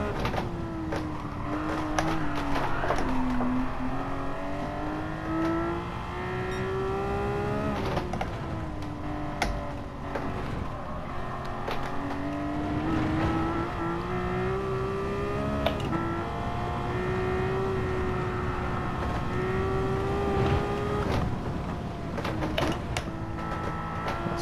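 Porsche 911 engine in Gran Turismo 7, a steady droning drive that rises and falls through several upshifts and short shifts through corners, moderately loud and unbroken for the whole stretch.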